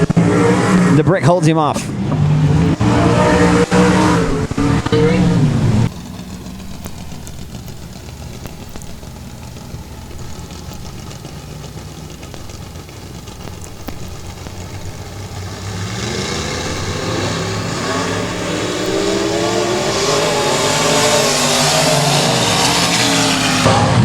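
Dirt track race cars roar around a quarter-mile oval at Boothill Speedway, loud engines droning and surging as the throttle opens, while an announcer calls the race over the top.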